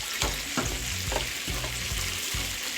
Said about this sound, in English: I will now go ahead and add the rice.